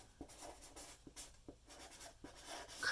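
A pen scratching decorative manifesto lettering onto paper, soft close strokes and scrapes in an irregular rhythm of short sweeps and taps, quiet and alone.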